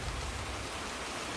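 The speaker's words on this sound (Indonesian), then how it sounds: "Di sini hujan terus guys. Tiap hari, tiap sore, tiap malam, tiap pagi hujan terus. Ini hujan besar." Heavy rain pours steadily, a dense, loud, unbroken hiss with no gaps or individual drops standing out.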